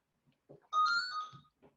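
A phone ringtone sounds once as a short, clear melodic electronic tone, with faint soft noises just before and after it.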